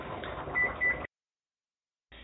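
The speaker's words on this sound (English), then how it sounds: "so that's the timer on our cod" A kitchen timer beeps for cod baking in the oven, giving a short electronic beep sequence for about a second, then silence and a brief return of sound.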